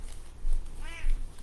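A pet cat named Ginger lets out a single short, close meow partway through, with quiet room noise around it and no talking.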